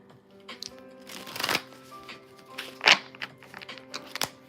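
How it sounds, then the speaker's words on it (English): A deck of playing cards being shuffled in a few quick riffling bursts, close and crisp, with soft handling taps between them and no talking. "I love like when a deck is like easily able to be shuffled. It was like, that was a good shuffle."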